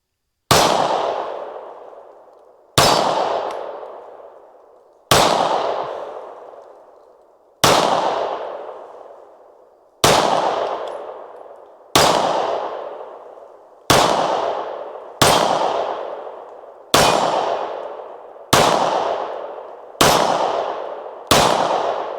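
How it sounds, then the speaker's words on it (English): Eleven loud, close 9mm shots from a Springfield XD Mod 2 pistol at an outdoor range, each sharp crack ringing off steel targets and trailing away over a couple of seconds, the firing speeding up slightly toward the end. "We're going to hit the steel a little bit more and try to go out doing this thing some justice."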